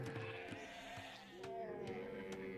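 Sheep bleat repeatedly in Age of Empires 2, their wavering calls layered over a steady bed of in-game ambience.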